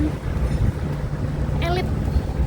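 Steady wind buffets a microphone outdoors by an apartment building where air conditioners are running, a constant low rumble with a faint whistling tone partway through.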